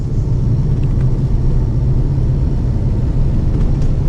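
A Porsche 911 of the 993 generation driving along countryside roads, a steady loud low engine and road rumble heard from inside the car, constant throughout with no talk.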